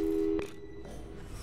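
A telephone busy signal from the Portal 2 video game plays as a steady tone that cuts off abruptly, followed by quiet low hum.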